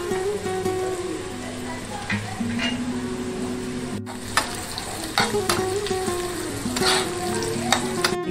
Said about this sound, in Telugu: ఇది జీడిపప్పు వేగింది